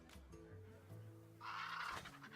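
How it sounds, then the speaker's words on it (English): Enchanted Raven card in the Hearthstone video game letting out a short bird caw, a bright croaking burst in the second half over a low steady game music bed. "Enchanted Raven bird noise."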